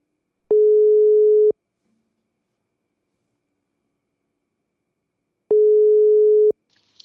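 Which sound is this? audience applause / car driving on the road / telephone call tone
telephone call tone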